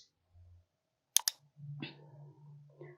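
A couple of quick, close mouse clicks on a computer, sharp and faint in an otherwise quiet room, followed by low soft background rustle.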